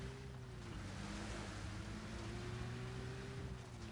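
Water in the Arma military game, a soft continuous wash of surf-like noise with a low steady engine-like hum underneath, faint and unbroken throughout.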